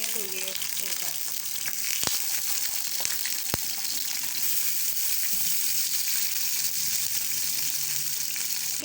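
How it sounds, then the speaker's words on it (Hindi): Brinjal slices, still wet from water, frying in hot oil for Hyderabadi baingan raita: a loud, continuous close sizzle with a couple of sharp spatter pops and faint clatter. "ये तेल गरम हो गया है, अब इसके अंदर मैं फ्राई करने के लिए बैंगन डाल देंगे।"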